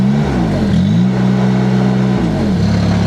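A compact loader's engine idles steadily, then climbs in pitch twice as the gas pedal is pressed, each rev swelling briefly before settling back. The engine is loud and close, with no voices.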